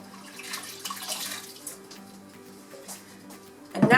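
Water runs into a kitchen sink as a baking tray is rinsed, a soft, steady flow with light splashing that turns louder and harsher at the very end.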